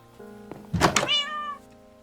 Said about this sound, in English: Oh, my real cat, Ginger.